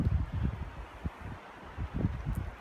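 Wind gusts through a canyon at Grove Creek, Utah, in uneven low rumbling buffets against the microphone with soft rustling between, no voices.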